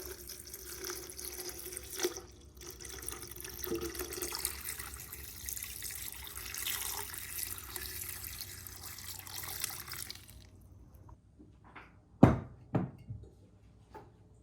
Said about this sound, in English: Next, you're going to want to pour enough water to cover the petals up.